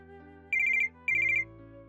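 A phone ringtone for an incoming call plays as two short bursts of rapid electronic trilling with a brief gap between them, over a soft background music bed.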